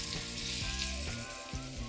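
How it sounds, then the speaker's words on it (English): Pork pieces frying in hot oil, a loud continuous sizzle and crackle with small pops of splatter, close up and with no voices over it. "Do not drop them because then the oil will splatter."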